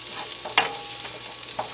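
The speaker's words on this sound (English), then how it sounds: "I'm just going to keep on stirring it." A spoon stirs garlic sauce sizzling in a pan, a constant frying hiss with a few soft scrapes and knocks, close and unaccompanied by talk.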